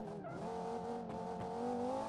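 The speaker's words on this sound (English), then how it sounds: "the engine sounds basically the same because it is the same engine, just with a little bit more power" A supercar engine in the video game Automation drones steadily under load, with brief tire-squeal-like sweeps over a continuous revving hum.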